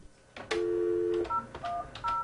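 A telephone being dialed to reach contacts near the China border, with a short run of distinct touch-tone beeps of varying pitch, some held longer, clear and close with no talking.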